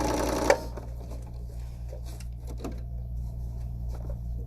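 A sewing machine set to half speed, around 600 stitches a minute, stitches a pillowcase seam; a steady low motor hum with soft ticking follows one sharp click near the start.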